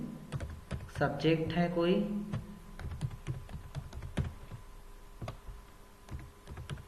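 Keys clatter steadily on a computer keyboard as data is typed into an MS Excel spreadsheet, a close, irregular run of sharp taps continuing under a man's speech.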